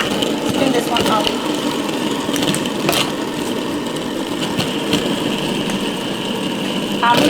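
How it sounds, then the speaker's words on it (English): A fidget spinner whirs in a steady, continuous buzz close by, holding an even drone throughout, with faint background noise and occasional soft handling. "Spin this one up."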